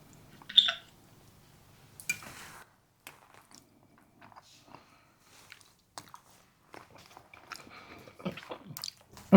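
Someone eats homemade pecan pie with a fork at a kitchen taste test, giving soft, sporadic bites, chews and small squishy mouth sounds with quiet gaps between them.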